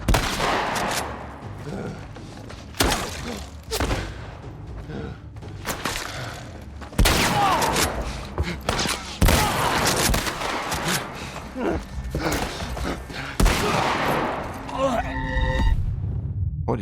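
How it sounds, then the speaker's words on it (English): Shotgun blasts ring out in The Last of Us Part I, loud booming shots with sharp onsets scattered irregularly among other game sounds and thuds, while a player talks and reacts over the action. "That was a shotgun, I think."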